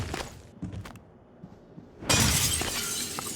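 Glass shatters in a video game, a sudden bright crash that bursts in after a few soft knocks and thumps, then a lingering spray of breaking shards.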